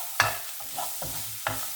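Bacon and a clove of garlic sautéing in a pan, with a faint, steady sizzle under a few soft stirring scrapes.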